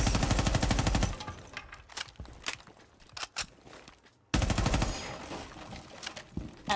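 Rapid automatic gunfire in Rainbow Six Siege gameplay, fast dense bursts at the start and again after a short silence, with scattered single shots, footsteps and clatter in between.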